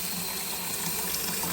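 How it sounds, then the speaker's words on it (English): Tap water running steadily into a small temporary fish tank set up with yard dirt, a continuous close splashing gush with no talk. "I guess I can just put some water in."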